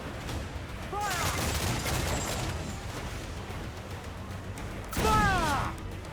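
Ship cannons firing in Assassin's Creed IV Black Flag: two heavy booming volleys of cannon fire, each rumbling for a moment, with a shouted voice cutting in between them.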